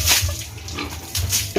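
Fattener pigs being bathed with water in the afternoon, splashing and running water with faint grunts close by, in short bursts.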